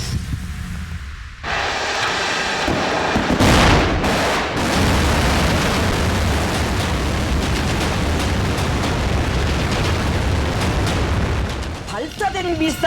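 A North Korean ballistic missile launch erupts from near silence into a sustained, thunderous roar with crackling blasts at ignition, the broadband rumble holding steady for many seconds before a voice briefly begins speaking at the end.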